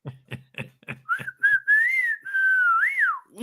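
A person whistles a wavering, sliding tune for a couple of seconds after a few short percussive taps, close and clear with no talking.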